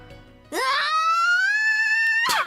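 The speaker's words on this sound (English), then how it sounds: "Misaki lets out a loud scream, which effectively drowns out my words." Misaki, a character in the visual novel game Aokana, lets out a loud, sustained high-pitched scream that starts suddenly, holds for nearly two seconds and cuts off sharply.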